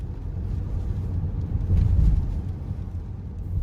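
Steady low rumble of wind and road noise inside a 2021 Toyota Highlander Hybrid Platinum AWD while driving, a continuous broadband roar that swells slightly midway, with no one talking.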